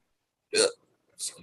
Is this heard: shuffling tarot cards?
no